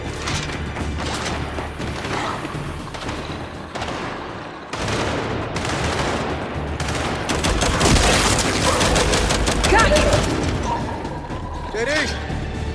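Gunfire in the video game Gears 5, sustained rapid bursts and heavy booms of a firefight, loud and dense, with shouted voices and music mixed in.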